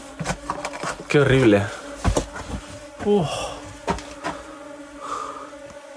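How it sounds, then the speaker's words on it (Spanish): Flies and mosquitoes buzz inside a stone building, a close droning whine that runs under a person's voice, which speaks briefly with disgust. "hay mucho mosquito y mucha mosca"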